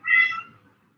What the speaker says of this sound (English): my cat, is crying over there